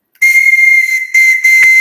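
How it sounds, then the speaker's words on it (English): A whistle blown loudly and close in a home ahead of a storm, a shrill steady tone in two long blasts with a brief break and a short chirp, no talking. "he's got a whistle."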